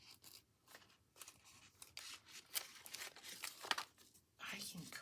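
Scissors snip through paper while a Christmas tree shape is cut out for a gift card folio, giving a series of short crisp cuts and paper rustles at close range, broken by brief pauses.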